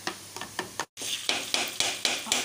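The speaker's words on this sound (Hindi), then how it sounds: "अब अंडे में हम कुटी हुई लाल मिर्च और नमक डाल देंगे और इसको अच्छी तरह फेंट लेंगे" Eggs beaten with crushed red chilli and salt, a whisk or fork striking the bowl in steady repeated strokes, close and fairly loud, with a brief break before the rhythm resumes.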